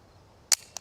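A Glock slide release, pushed hard, lets the racked slide slam forward with one sharp close metallic snap, then a smaller click a moment later.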